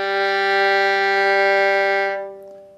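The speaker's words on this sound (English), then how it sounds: "Open G string," A bowed open G string on a violin sounds as one sustained, rich, steady note played close and alone, fading out quickly at the end of the stroke.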